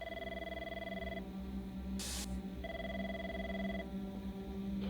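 A telephone rings twice in a steady electronic double tone, each ring lasting about a second, with a brief burst of static between them over a low constant hum.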